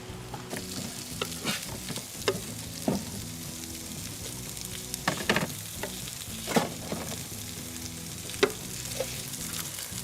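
Meat frying in a skillet on an electric cooker, a steady close sizzle broken by scattered pops and sharp crackles, with no talking.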